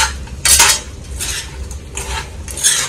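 A spoon scrapes and clinks against a pan while chicken pickle mixture is stirred, giving a few sharp, close scraping strokes over a low background hum, with no talking.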